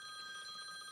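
A telephone rings during a recorded interview, giving a steady, bright electronic tone that holds without a break across the whole short moment, with no one speaking.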